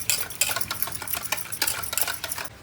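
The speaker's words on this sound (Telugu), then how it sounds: "సో ఫ్రెండ్స్ కస్టర్డ్ పౌడర్ అయితే కలిపేస్తున్నా" Custard powder being stirred into milk in a pot for a fruit salad, a steady scraping swirl of spoon strokes close by with repeated rhythmic pulses, no one talking.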